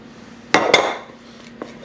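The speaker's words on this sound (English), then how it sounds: "Scrape out all your dough or batter." A utensil scraping dough for Irish brown bread into a baking pan makes two sharp metallic clacks followed by a short scraping rasp, then faint small taps.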